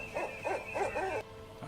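An owl hoot sound effect plays during a tabletop role-playing game, four quick, close, rising-and-falling hoots in steady rhythm that stop abruptly.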